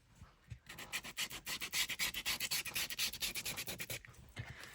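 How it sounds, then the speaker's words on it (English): Hand sanding along the edges of a bookcase makes rapid, rhythmic back-and-forth rasping strokes, close and steady, with a brief pause near the end. "I'm just going to sand down the edges"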